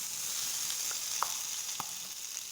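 Butter melting in a hot pan for paneer butter masala, a soft continuous sizzle with a few faint pops and clicks, close and quiet with no voices.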